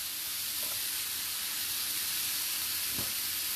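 Food browns over raised heat in a hot skillet, giving a steady, fairly quiet broadband sizzle with faint crackles and a brief pop near the end, with no talking.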